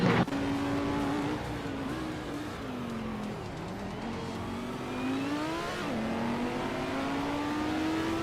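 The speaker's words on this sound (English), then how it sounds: "Pippi Langstrumpf is driving a Lamborghini Huracan GT3" A Lamborghini Huracan GT3 race car engine in a racing game on the tight Macau street circuit, droning steadily throughout with rising and falling revs through gear changes, loud and close.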